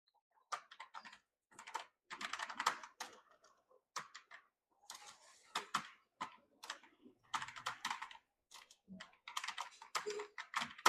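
Typing on a computer keyboard in Microsoft Word, fast clusters of crisp key taps in uneven bursts with short pauses between, close and fairly quiet.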